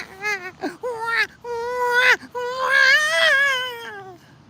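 A voice imitating a newborn baby crying, with repeated wailing, whimpering bursts rising and falling in pitch, loud and close.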